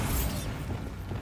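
Bombarda blasting spell explodes in Hogwarts Legacy, a single bright burst opening with a crackling rush that fades into a low rumbling tail, loud and close with no talk.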